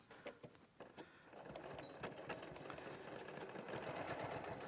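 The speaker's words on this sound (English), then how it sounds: "Sorry, the machine jammed." A sewing machine that jams while running, giving a few faint mechanical clicks and thumps before settling into a steady low whirring drone that holds to the end, quiet and near.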